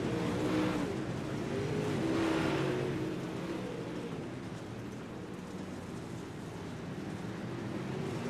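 Dirt track race cars roar around the oval in a steady, loud engine drone that swells and fades slightly as the cars pass, with no talk over it.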